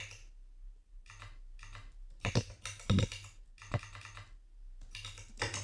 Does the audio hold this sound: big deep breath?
no